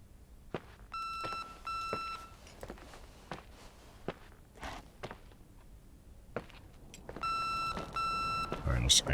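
A phone in The Suicide of Rachel Foster beeps in two bursts of rapid repeated electronic tones, early and again near the end, amid soft footsteps and scattered clicks.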